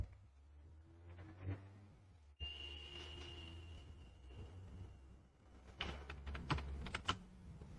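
Typing on a computer keyboard while entering items into an Excel spreadsheet. It comes as irregular, fairly faint key clicks in short bursts, with a denser flurry of taps near the end and a quiet background hum.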